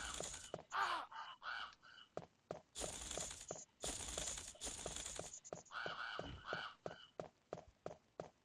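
Crows caw over and over in the video game Resident Evil, in loud, harsh, clipped bursts with short gaps between them, and no voices over them.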